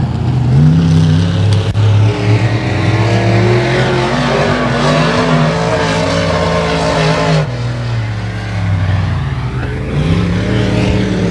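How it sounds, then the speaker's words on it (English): Race cars at 281 Speedway scream through the corners, engines loud and close, with tires squealing in long sustained howls as the cars sweep past, the pitch rising and falling through each turn. "Hear those tires squealing each and every corner."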